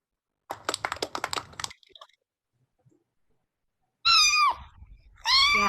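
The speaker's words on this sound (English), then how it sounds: "It is a cat, a kitten." A rapid run of clicking taps, a short silence, then two high, drawn-out kitten meows, close and clear.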